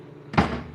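A door shut indoors, one short muffled thud with a brief fading rumble, close and moderately loud after near silence.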